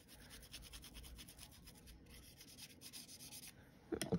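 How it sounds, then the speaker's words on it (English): Paintbrush dragging Distress paint across a surface in soft, steady scratchy strokes, close and fairly quiet, with a brief louder knock near the end. "just brushing on the paint to make sure that we've got a good coverage"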